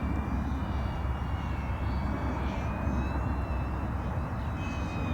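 An iFlight Defender25 4S HD FPV drone with a DJI O3 air unit flies at a steady distance, its propellers giving a continuous whining buzz with a faint rising and falling pitch over outdoor rumble.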